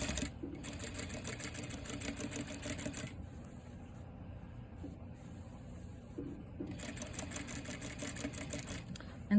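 Sewing machine stitching a neckline binding seam, a steady fast mechanical whir that stops briefly in the middle then resumes, close and alone with no talk.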